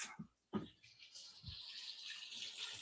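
Water runs through a freshly opened valve during an aquarium water change, starting with a couple of clunks from the fitting and then settling into a steady, soft hiss of flow.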